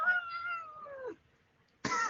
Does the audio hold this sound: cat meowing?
yes